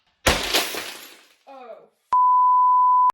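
Glass doors of a Billy bookcase being smashed: a loud crash and shatter followed by tinkling fragments, then a sustained electronic beep.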